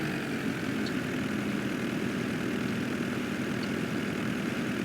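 A riding tractor's engine drones steadily while mowing in Farming Simulator 22, a constant mid-loud hum with no talking.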